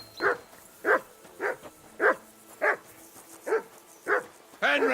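In Kingdom Come: Deliverance 2, a dog barks steadily, about eight loud, evenly spaced woofs close by, and a voice starts up at the end.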